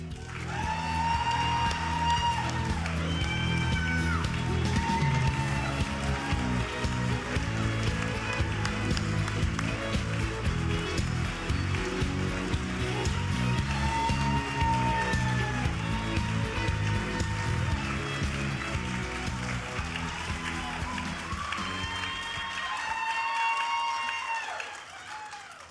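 An audience at an awards gala gives sustained applause and cheering for an award winner, a dense roar lasting over twenty seconds that mixes with loud music before fading slightly at the end.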